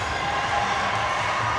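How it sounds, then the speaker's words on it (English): A roller derby championship crowd roars and cheers loudly and continuously, dense and close, with shouts mixed into the sustained noise. "we can hear it when that crowd is that loud"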